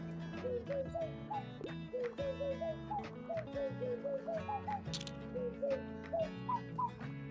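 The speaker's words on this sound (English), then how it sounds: "Birds!" Birds coo and chirp in a video game, a run of short rising calls repeating in a lively rhythm over a steady melodic game soundtrack, fairly close and clear, with no talking.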